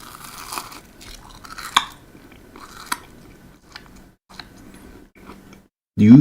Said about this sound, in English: Do you hear that crunch?